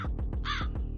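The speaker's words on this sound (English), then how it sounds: "I'm letting the crows out." A crow caws several times as a sound effect, harsh rapid calls repeating in a quick rhythm, close and clear with no talking.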